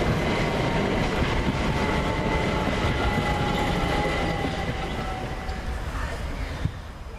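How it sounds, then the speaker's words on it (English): A Class 377 passenger train pulls into Havant station, a loud continuous rumble of wheels on rail with faint tonal whine, easing slightly as it slows. "Just now arriving the 1356 service from Southampton Central to London Victoria"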